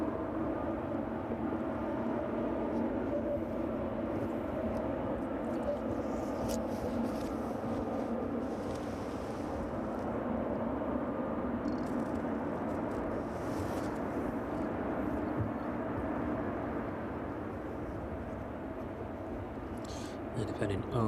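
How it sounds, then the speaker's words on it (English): A Boeing 737 jet inbound to land at East Midlands Airport makes a sustained broadband engine roar with a steady whine, loud and continuous for the whole stretch, while a voice talks faintly under it. "Watch this 737 inbound on 227 now."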